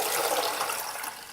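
Hibiscus tea poured through a strainer, a brief, steady, close splashing stream of liquid that tapers slightly as it ends.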